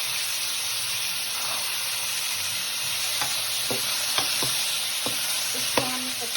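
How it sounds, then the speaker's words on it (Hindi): Potatoes, carrots and peas fry in oil for a mixed vegetable sabzi, with a loud, continuous sizzle and hiss broken by occasional clinks and scrapes of stirring in the pan. "ये इसी तरह ऑयल में फ्राई होंगी"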